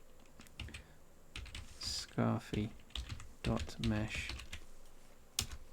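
Keys clatter on a computer keyboard as a short object name is typed into a Blender name field, quick uneven clicks in bursts interleaved with a man's speech.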